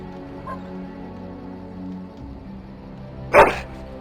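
A dog in the fantasy role-playing game Dragon Age: Origins gives one sharp, loud bark near the end, after a stretch of low ambient game hum.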